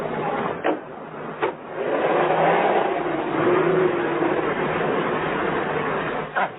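A car engine revs and surges as the automobile pulls away, a rising rumble swelling through the middle with a few sharp knocks before and after, sounding thin and old-fashioned.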